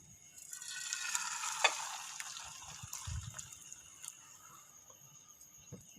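Potato and egg batter for a Spanish omelette is poured into hot oil in a pan and frying, a soft hissing sizzle with a few faint spatters and clinks, close and quiet, with no talk.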